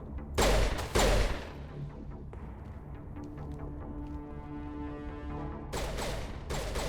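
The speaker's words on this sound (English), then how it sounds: "where is this shooting coming from?" Video game gunfire in short heavy bursts, a quick pair of loud shots at the start and another cluster near the end, with scattered fainter distant shots and a humming tonal background between them.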